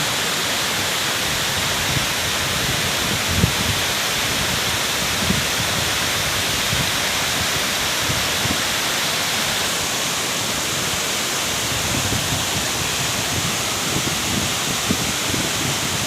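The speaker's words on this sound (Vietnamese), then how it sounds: "Cho các bạn chiêm ngưỡng vẻ đẹp của thác CD" Sidi waterfall in Laos roars in a loud, steady, unbroken rush of falling water that fills the whole scene, with no voices.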